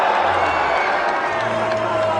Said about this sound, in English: I don't know if you heard that roar go up in this crowd